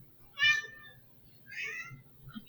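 A cat meows twice, a short clear call followed by a longer drawn-out one a second later, close and fairly loud over a quiet background during a game broadcast.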